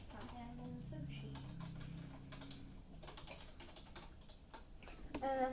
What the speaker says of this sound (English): right now I'm just going to type in salmon